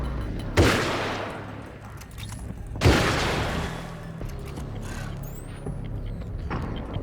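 Two loud, sharp gunshots about two seconds apart, each followed by a short echoing decay, fired from a handgun in the Alan Wake's American Nightmare video game amid faint background ambience.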